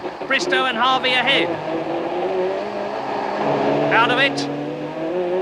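Guy Edwards's racing car in the 1989 British Touring Car Championship, heard from an in-car camera as it brakes into the chicane: a steady, close engine drone with shifting pitch, running under continuous commentary.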